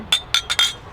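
Glasses clinking in a toast at an Argentine asado, four bright, quick clinks spaced across a second, close and clear.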